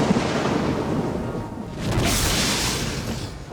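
Thunder rumbles during a storm, a broad, continuous roar that dips briefly and then swells again into a loud, sustained rolling boom with no voices.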